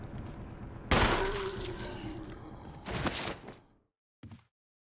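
Gunfire in the survival horror game Resident Evil HD Remaster, several sharp blasts with ringing tails, the biggest early and another a couple of seconds later, then a short final burst after a quiet gap.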